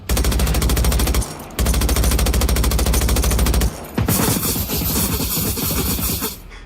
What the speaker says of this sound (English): Yeah, I have a machine gun too.